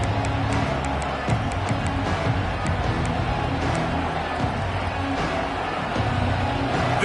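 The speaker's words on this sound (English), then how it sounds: "This crowd ready to make its presence known." Football stadium crowd at a college game between Nebraska and Ohio State, a steady loud roar of cheering filling the whole stretch, with brief louder swells and no clear voices.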